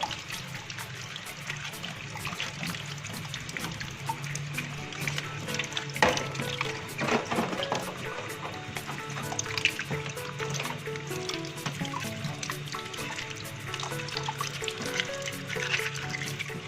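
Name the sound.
rinsing cleaned crab with water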